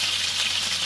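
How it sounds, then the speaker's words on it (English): Smoked lard renders out of meat in a hot pan, a steady, loud, close sizzle and hiss running without a break and without voices. "We've got a wonderful smoked flavored lard that is rendering out of that meat."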